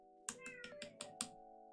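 A cat meows five or six times in quick succession, each call short and close, with a steady electronic hum running quietly behind.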